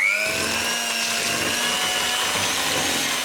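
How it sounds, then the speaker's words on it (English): An electric mixer creams butter and sugar for gingerbread, a steady loud motor whine with droning harmonics that drops in pitch as it takes load, close and continuous with no talk. "Cream the butter and sugar together."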